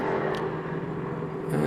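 Race cars at the Spa circuit, a steady engine drone and whir passing close by, running alone without talk for under two seconds.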